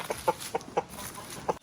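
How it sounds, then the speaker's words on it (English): A brightly colored chicken on a poultry farm clucks in a quick run of five or six short, close clucks with brief gaps between them. "I think I see this beautiful chicken."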